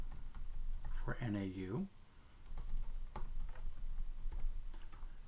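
Login credentials typed on a computer keyboard, a run of quiet, uneven clicks in short bursts, with a brief spoken phrase partway through.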